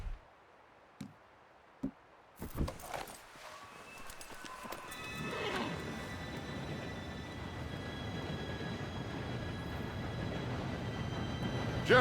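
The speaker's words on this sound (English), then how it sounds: "Train should be here any minute now." In Red Dead Redemption 2, a few sharp hoof clops come first, then an approaching train builds into a steady, rising rumble with faint high metallic tones that fills the rest of the scene.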